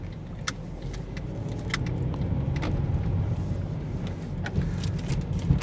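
Car cruising down a freeway at night, a low steady rumble of engine and road noise from inside the cabin, with scattered small clicks and rattles over the top.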